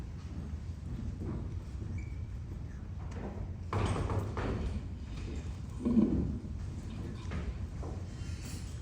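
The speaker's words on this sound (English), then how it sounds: "Someone left the French doors open. I'll close them." French doors pulled shut on a stage, with a sliding rattle and then a soft thump of the doors meeting, fairly faint and distant over a low background rumble.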